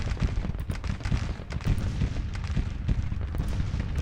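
Dense Civil War musket and artillery fire from Grand Tactician rattles and booms continuously, with overlapping volleys and distant cannon thuds forming a steady battle roar and no talking.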